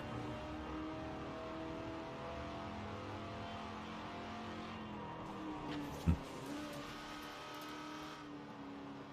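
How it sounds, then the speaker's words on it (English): A car engine drones steadily while driving in a video game, rising into a rev with a brief sharp spike near the end, the sound moderately quiet and without speech. "Just started driving the car."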